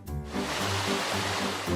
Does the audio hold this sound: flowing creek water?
yes